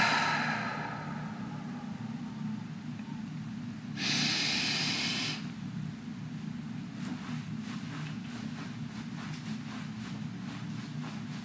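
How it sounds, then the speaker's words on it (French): A steady, close exhale of air during a guided sophrology relaxation exercise, a soft breathy hiss that swells briefly and then trails off into quiet room tone. "Expiration de l'air."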